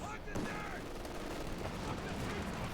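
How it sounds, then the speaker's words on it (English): Pak anti-tank guns firing in the video game Company of Heroes 2, repeated sharp shots and battle noise running beneath steady commentary from a caster. "Pack shooting away, they're missing."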